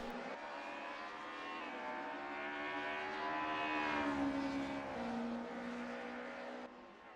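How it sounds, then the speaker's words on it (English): A BMW race car in a racing video game, its engine droning with a rising and falling pitch as it brakes into a corner, plus a faint tonal whine suggesting tire squeal, steady and fairly close. "Red locking up the rear a little bit on his BMW as he goes into the corner there"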